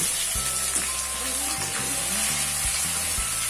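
Onion paste sizzles and fries in hot oil with black cardamom and cloves for a Lahori anda chana curry, a steady close hiss running throughout, with low stirring knocks and no speech.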